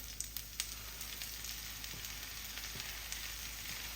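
Fresh spinach hits hot olive oil in a skillet over medium heat, giving a steady, close sizzle dotted with small pops and crackles, with no talking.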